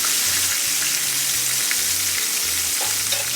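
Pork chops sizzle steadily in an iron skillet just after being flipped, a loud, continuous frying hiss with no one talking.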